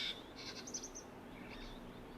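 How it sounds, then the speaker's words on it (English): Several small birds chirp faintly and intermittently at a waterhole among large thorn trees in Lentori scrubland, high tweets drifting over a steady low background. "There's lots of little birds coming down now."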